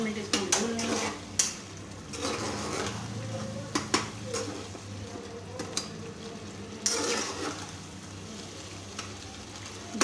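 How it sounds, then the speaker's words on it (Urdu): Onions frying with keema mince in a pan for keema karela, a steady sizzle under repeated scraping and clinking of a spoon against the metal as the mixture is stirred, close by. "اب ہم اس میں پیاز ڈال رہے ہیں اور اس کو 2 منٹ بھون لیں گے"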